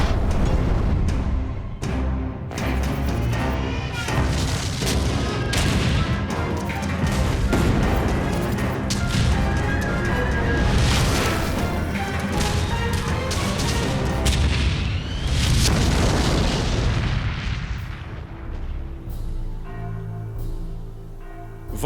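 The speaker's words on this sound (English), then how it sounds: "Two massive tank armies clash in the Battle of Stalingrad, one of history's greatest tank battles." Heavy tank battle at Stalingrad: dense, continuous booms, blasts and gunfire crash together loudly for most of the stretch, thinning toward the end into a lower rumble with scattered hits.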